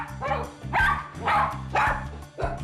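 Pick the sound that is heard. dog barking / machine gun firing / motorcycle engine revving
dog barking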